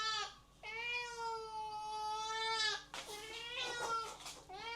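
A cat gives two long, drawn-out meows, close and clear, the second breaking into a wavering, throaty cry.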